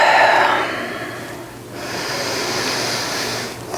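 A person doing a yoga flow exhales audibly through the nose in one strong, close breath, followed by a softer, drawn-out breath that fades, with no talk.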